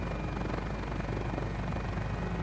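A GotFriends Mini-500 helicopter in a flight simulator spools up for takeoff, its steady rotor and engine drone filling the scene with a dense, continuous roar and no talk.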